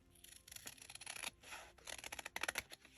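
Scissors snipping through paper for a handmade journal tag, a run of close, crisp cuts in irregular bursts with brief pauses between strokes.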